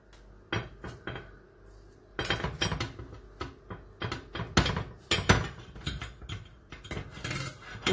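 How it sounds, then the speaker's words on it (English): A knife scrapes and clinks against a plate while food is slid onto it, a string of close, sharp metallic taps and scrapes with brief pauses between them. "So you can use your knife actually to help you get it onto the plate."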